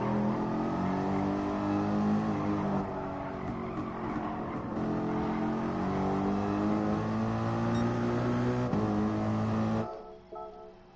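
A race car in Gran Turismo Sport lapping the Nürburgring, a loud, steady engine note held high with shifting pitch as gears change, plus brief tire scrub, before cutting off abruptly near the end.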